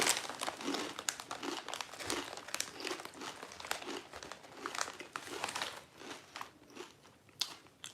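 A packet of Lidl deluxe sea salted ridge cut crisps crinkles loudly and steadily at close range, with dense rustling and crunchy crackles throughout and no talk.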